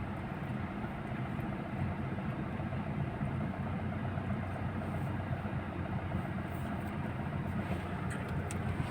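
A car engine hums at a steady low pitch as the car pulls away in first gear, a continuous dense rumble heard from inside the vehicle, with no talking.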